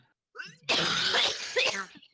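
A single harsh cough from someone close to the microphone during an online Mario Kart and Fortnite session, preceded by a short voiced sound and ending abruptly.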